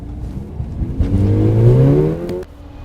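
A high-performance car accelerates hard, its engine note climbing steadily in pitch over about two seconds before the revs cut off abruptly, loud and close.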